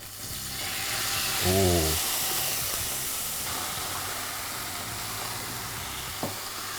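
Fresh spinach tagliatelle hits a hot pan with a tablespoon of oil on high heat, giving a loud burst of sizzling that settles into a steady hiss, with a brief exclamation from a voice.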